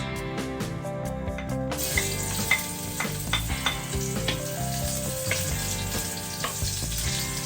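Onion and garlic fry in hot oil with a steady, loud sizzle and occasional crackles and pops, running continuously close by.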